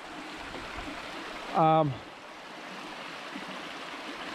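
Steady broadband rush of river water flowing near a backcountry cabin on a hiking trail, continuous and moderately loud throughout, with a brief spoken word partway through.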